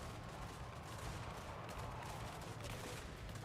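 Massed gunfire from troops on a Total War Warhammer 3 battlefield, a dense continuous crackle of volleys blending into a steady low rumble with no clear separate shots.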